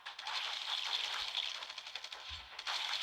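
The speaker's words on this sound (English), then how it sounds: "Double tap with the old assault rifle" Rapid assault rifle fire crackles in The Walking Dead: No Man's Land video game, a dense, steady rattle of shots at moderate loudness, broken by a brief pause and a low thump.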